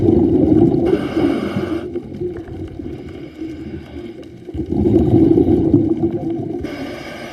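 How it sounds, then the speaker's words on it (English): Whales call underwater off South Maui during a scuba dive around 22 feet deep, faint tonal moans and squeals heard under loud, steady regulator breathing and bubble rush. "Oh, I hear whales."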